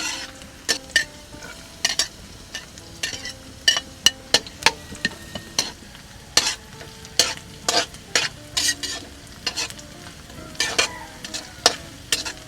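Garlic fries in a pan for a Japanese siomai and liempo chao pan dish, a steady sizzle broken by frequent sharp scrapes and clinks of a spatula stirring against the metal, close and busy throughout.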